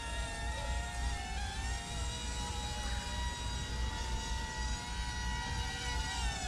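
An XD1 Pro HD camera drone flies, its rotors giving off a steady high whine with tonal buzzing lines, held evenly the whole time at a fairly low level.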